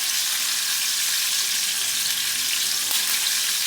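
Ground beef browning in a heated pot for dirty rice, giving a steady, close sizzle and frying hiss throughout with a faint scrape near the end.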